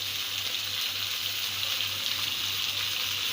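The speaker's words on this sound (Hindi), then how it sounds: "गोश्त डालने के बाद इसमें हम अदरक लहसुन का पेस्ट डाल देंगे" Beef sizzling and frying in a pan with ginger garlic paste for achar gosht, a steady hiss with a faint low hum running beneath it throughout.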